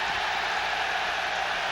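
A loud home crowd at a college basketball game, Providence Friars against Pitt Panthers in 1991, roars and applauds in a dense, steady wash of noise that holds at full level throughout.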